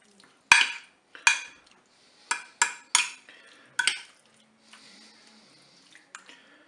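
A spoon gently folds eggs and crème fraîche through a cauliflower flan mixture in a Cookeo dish, making about seven close, wet clinking strokes with short pauses between, followed by a few softer scrapes.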